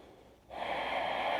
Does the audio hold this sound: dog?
no